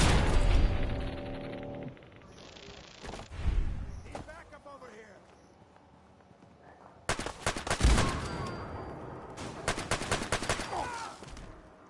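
Gunfire in Fallout 4 on PS5: bursts of loud shots at the start, a quieter stretch with scattered sounds, then dense rapid fire from about seven seconds onward.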